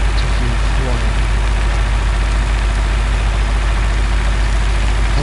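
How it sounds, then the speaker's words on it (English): An old tractor's engine idles steadily in a farming video game, a constant low rumbling drone that holds at an even loudness throughout. "We'll drive this old shaggy tractor to field 1."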